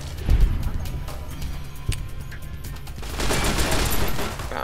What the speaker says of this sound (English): A critical VATS burst.